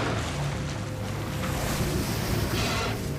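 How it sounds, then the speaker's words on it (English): Large modern ship engines heard underwater: a dense, steady low rumble with broad churning noise and a faint tonal hum, continuous and loud throughout with no voices. "The noise of ship engines traveled thousands of miles underwater"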